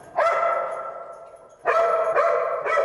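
A rescue search dog named Bailey barks loudly and close by in a few sharp bursts, one early bark and then a quick run of three during a search down some stairs.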